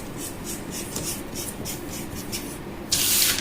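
A marker scratches across a sewing pattern draft in steady, repeated strokes, ending in a louder, rougher swipe.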